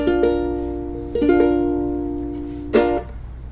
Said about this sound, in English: it is a B flat